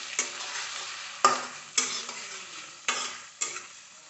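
Ginger, garlic and bay leaf fry in a pan and are stirred, giving a steady close sizzle broken by five sharp scrapes of the utensil against the pan.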